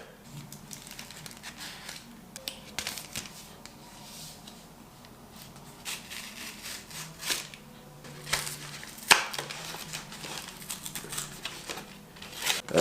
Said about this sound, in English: So here we go, butter knife.